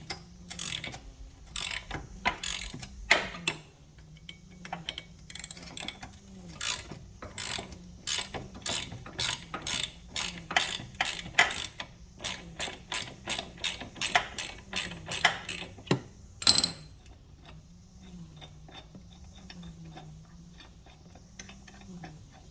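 A ratchet clicks in rapid repeated bursts while backing a tight screw out of Can-am Ryker floorboards, the ratcheting strokes close and crisp with brief pauses between runs, no talking.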